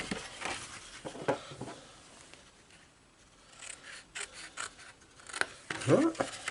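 The Works all-in-one tool cutting card for a 3D Disney frame: soft, intermittent scraping and rasping strokes, close and fairly quiet, with a pause in the middle and a sharper burst near the end, under a voice talking.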